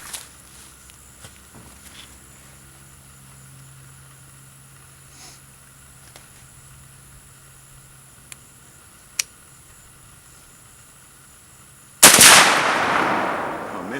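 A single sharp, loud rifle report from an AR-10 .308 fired at a half-pound Tannerite target, followed by a decaying outdoor rumble, after a long quiet stretch with a few faint ticks.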